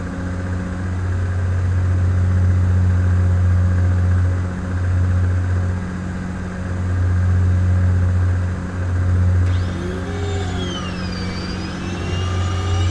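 Steady droning piston aircraft engine of a complex single-engine plane at climb power in Flight Simulator 2004, a loud continuous low hum with gentle swells, then rising and falling whistling tones near the end.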